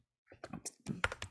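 Fingers tap out a short burst of keystrokes on a computer keyboard, a dozen or so quick, close, uneven clicks after a brief silence.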